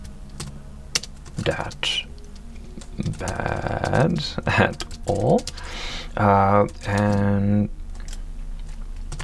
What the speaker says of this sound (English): the typing experience is really good